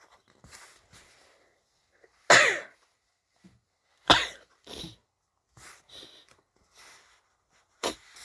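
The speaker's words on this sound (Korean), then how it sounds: "울컥했더니 재채기가 나오네요" A person gives several short, sharp bursts of sneezing and coughing with quiet sniffs and breaths in between, close and isolated, the loudest bursts spaced a couple of seconds apart.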